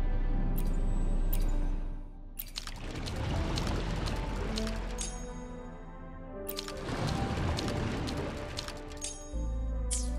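Water drains and gushes away from an underwater chamber in the Wuthering Waves game, a loud continuous rushing pour that swells and churns for several seconds, with brief splashy bursts near the start and end.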